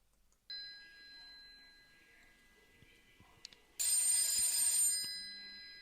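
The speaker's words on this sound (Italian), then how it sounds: "squilla un telefono bigrigio" A grey telephone rings with a steady electronic chirping tone, then a louder, brighter mechanical bell burst follows for about a second before fading, with faint room sounds between.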